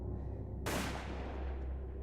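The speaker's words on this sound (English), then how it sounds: "A gunshot." A single sharp gunshot cracks out loud and close, its bright burst trailing into a fading echo over a low ambient rumble.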